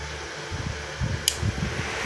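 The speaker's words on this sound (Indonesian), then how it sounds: "ini kipasnya nyala kencang banget" A cooling fan spins up inside a blue Rhino MMA IGBT welding machine, a steady broadband whir running throughout with low thumps and one brief sharp click partway through.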